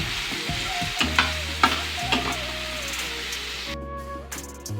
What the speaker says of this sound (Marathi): खिचडीसाठी मी एका बटाटा जो आहे तेलात तळण्यासाठी टाकलेला आहे